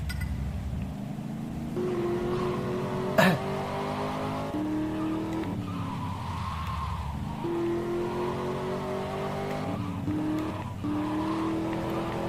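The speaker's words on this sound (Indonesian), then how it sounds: "Mobil ngebut nih." A car speeds along in GTA Vice City Stories, its engine droning and rising in pitch through repeated gear changes, with a brief tire screech partway through, loud and continuous.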